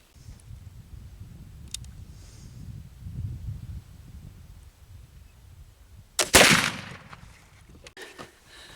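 A black powder gunshot fired with a blended Cherry powder load: one sharp, loud blast with a brief ringing tail, standing out after several seconds of low outdoor rumble.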